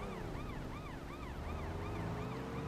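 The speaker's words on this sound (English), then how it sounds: "There's another police car there on the right that we're going to have to deal with" A police car siren from the Need For Speed Porsche Unleashed racing game wails in steady repeating rising and falling sweeps, loud and continuous over a low engine rumble.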